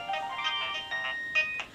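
A mobile phone ringing with a melodic electronic ringtone, a series of short tonal chimes repeating over almost two seconds, fairly faint, no talking.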